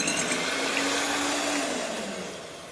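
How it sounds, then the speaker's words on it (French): An electric mixer beats egg whites with a continuous, loud, high whirring drone that holds steady and slowly tapers toward the end. "il est temps de battre tous les œufs blancs avec un mixeur"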